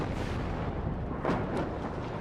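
Continuous rumbling artillery fire in the WARNO real-time strategy game, a dense roar of booming rounds with a couple of louder bursts in the middle, no voices over it.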